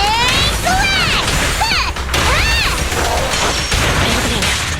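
Glass shatters in the video game Zenless Zone Zero, with several crashing bursts and sharp impacts against swooshing, ringing combat effects, all loud and close.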